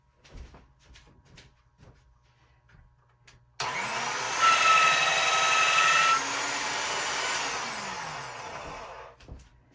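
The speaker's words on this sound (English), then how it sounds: "I'm going to put this through my pasta machine, and honestly, I'm just going to roll it once" A polymer clay sheet rolled once through a hand-cranked pasta machine for a snowflake sun catcher, giving a steady mechanical whirring and grinding for several seconds that starts abruptly and then tapers off, with no talking over it.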